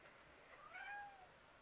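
A pet cat gives a single soft, high meow indoors, faint and brief, rising then falling over less than a second against a quiet room.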